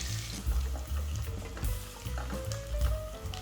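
Two large onions, sliced lengthwise, fry and sizzle in a pan for a mushroom gravy, with repeated scraping stirs of a spoon in a steady rhythm; no talking.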